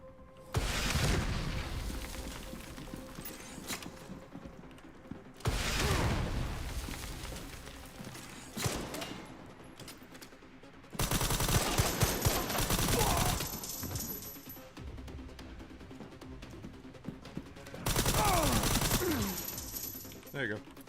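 Grenade explosions and gunfire in the video game RE:Requiem come in four separate bursts of booming blasts and rattling shots, with quiet stretches between them.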